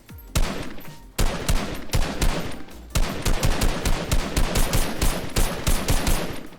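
Rapid gunfire from a Fortnite match, loud and close, with dense bursts of repeated shots and short pauses between volleys, no talking over it.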